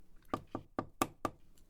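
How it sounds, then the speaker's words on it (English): A light knock on a room door, five crisp raps spaced about a quarter second apart, close and fairly quiet in an otherwise silent room. "A light knock at the door interrupted the utter silence of the room."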